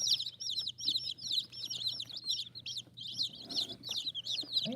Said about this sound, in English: I've already got one chicken trying to stalk her way into that box